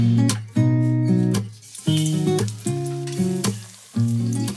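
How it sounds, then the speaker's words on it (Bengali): Beguni, eggplant fritters, frying in hot oil with a steady sizzle, partly masked by louder tonal background music that swells and drops in repeating phrases. "আর আমি এই বেগুনিগুলো ফটাফট ভাজছি।"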